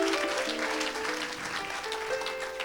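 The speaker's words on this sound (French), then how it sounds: "Tu peux acclamer pour ça." A congregation at a healing service applauds loudly and continuously, a dense wash of clapping with cheering over a sustained organ or keyboard chord.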